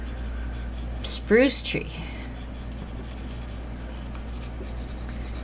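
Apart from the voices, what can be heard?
pencil drawing on paper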